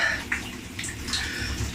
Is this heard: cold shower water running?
yes